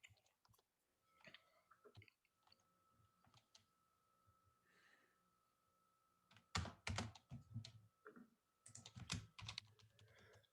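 Computer mouse clicks and keyboard typing at a desk, a few sharp close clicks with quiet gaps, then a busier burst of tapping toward the end.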